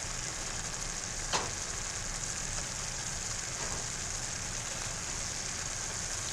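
Beef and pork patties fry in a hot pan with a steady, dense sizzle that holds at an even level throughout, broken by one brief tap near the start. No one speaks.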